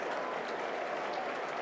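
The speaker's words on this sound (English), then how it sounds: "There's the cheer." Broad, steady roar of a crowd at a cricket Test match between England and New Zealand, sounding like dense applause and cheering heard from a distance, continuous and even throughout.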